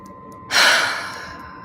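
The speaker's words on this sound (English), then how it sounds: "We'll do another breath." A deep breath drawn in and let out during a guided EFT tapping session: one loud, airy inhale-exhale rising suddenly, then trailing off, close up, with no talk over it.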